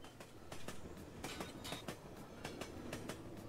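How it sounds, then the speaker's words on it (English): The in-game train in the RPG YIIK rolls along steadily. Faint, regular clickety-clack wheel beats repeat over a low rumble, with no voices present. "Oh, we're back on the train."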